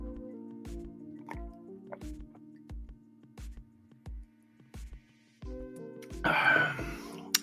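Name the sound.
drinking coffee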